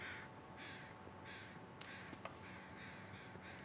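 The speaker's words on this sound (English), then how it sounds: "Don't know if those were weather crows" Crows cawing in the survival video game The Long Dark, a run of hoarse caws repeating at a steady rhythm, faint and distant over a constant windy background hiss.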